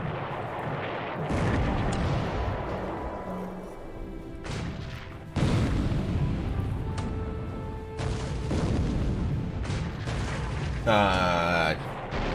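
Heavy booming 8-inch naval gun salvos in the naval wargame War in the Pacific: Admiral's Edition, loud repeated blasts with rumbling impacts spread through the stretch and a voice talking over the battle.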